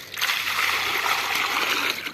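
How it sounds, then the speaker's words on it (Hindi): Water poured from a container into a cleaned bowl for a thirsty farm animal, a steady close splashing stream lasting about two seconds, with faint murmuring underneath. "अभी इसके अंदर डालते हैं पानी जी, चल पी ले।"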